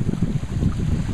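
Steady low rushing of rainwater flowing through a wooden head race built from boards, an unusually heavy flow after lots of rain, continuous and close with wind buffeting the microphone.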